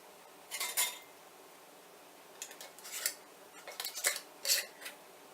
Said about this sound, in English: I'm just going to finger tight the lids on